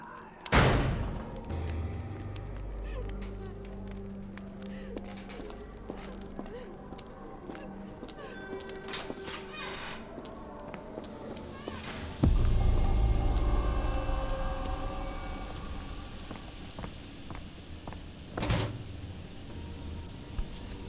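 Heavy thuds of a door being banged on in the Sherlock Holmes: The Awakened video game, a few loud, widely spaced blows over a dense layer of rumbling game ambience.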